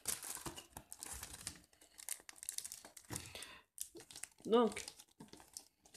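Crinkly plastic wrapping around an Ichiban Kuji prize is torn and rustled in short, close bursts of crackling, mixed with someone speaking French throughout.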